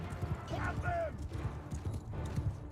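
Horse archers charge on horseback in Mount and Blade 2 Bannerlord, with rapid clip-clopping hooves and battle noise under someone talking over the game.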